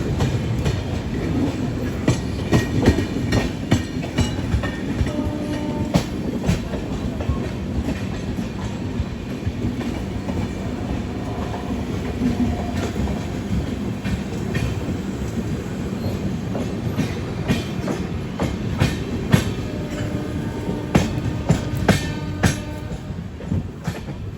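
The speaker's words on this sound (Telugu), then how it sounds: "మెల్లగా వచ్చింది బండి." A New Delhi–Bhubaneswar Duronto Express passenger train rolls in slowly and keeps running nearby, with a steady low rumble, rhythmic wheel clicks over rail joints and occasional faint squeals throughout.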